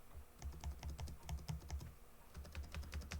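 Fingers tap letters on a computer keyboard while setting up a Linux Mint 21.2 Cinnamon desktop, a steady run of close, crisp keystrokes with a short pause in the middle.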